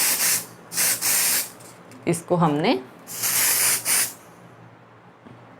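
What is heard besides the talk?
hair spray being sprayed to set hair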